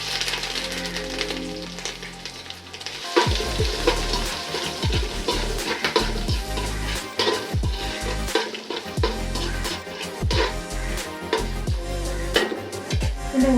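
Dried red chilies and chopped ginger fry on a low flame for mango pickle, a steady bubbling sizzle broken by repeated clinks and scrapes of stirring.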